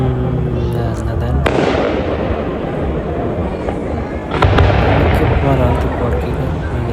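Fireworks bursting overhead at an outdoor show in Aldershot, near London, with a dense continuous crackle and booming rumble, a sharp loud burst around the middle and another surge later, and a voice talking faintly underneath.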